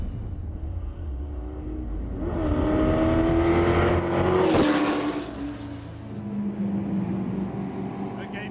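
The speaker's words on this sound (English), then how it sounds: "this is an actual GT40 that competed at Le Mans in 1966" A 1966 Ford GT40 that raced at Le Mans revs its engine, a loud, close roar that climbs in pitch to a peak, then eases back to a lower, rumbling idle.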